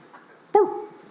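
A single sharp dog bark rings out once at close range, loud and sudden after a near-quiet stretch, with a short whining tail trailing off behind it.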